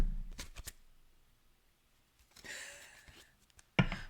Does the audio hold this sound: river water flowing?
no